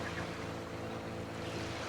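Motorboat engine droning steadily on a jungle river, a continuous low hum with water noise around it, no voices.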